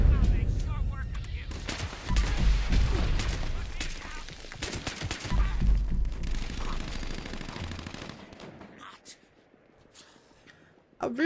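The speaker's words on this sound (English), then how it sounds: "How rude coming in here with a missile launcher at us." Dense, loud bursts of gunfire and missile launcher blasts in the Fallout 76 video game, rattling on over talk before fading near the end.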